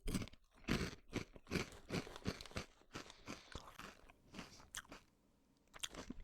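Close, loud chewing of a snack that is halfway between crunchy and puffy, with repeated bites and crunches in an uneven rhythm and short pauses, no voices.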